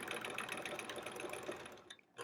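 A sewing machine runs steadily through free-motion quilting on a quilt-as-you-go sampler block, a dense continuous whirring stitch close by that cuts off abruptly near the end, then briefly resumes.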